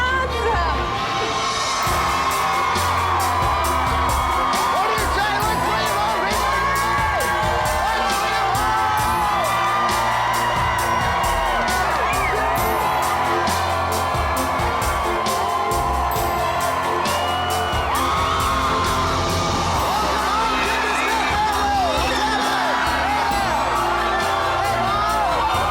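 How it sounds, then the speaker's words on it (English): A large crowd yells, whoops and cheers continuously at a home makeover reveal for a family, a loud, dense roar of many voices sustained throughout, with shrill whoops rising above it. "when we heard everybody yelling"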